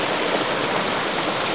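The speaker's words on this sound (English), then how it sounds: "hope you can hear me over the water" Rocky mountain stream rushing beside a backcountry campsite, a loud, steady broadband wash of water with no pauses and no voices.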